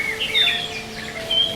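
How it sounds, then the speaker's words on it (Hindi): Birds chirp in a garden, a few faint high tweets scattered over a steady ambient background, with no voices. "पहली बार उस बाग से चिड़ियों की आवाज आई"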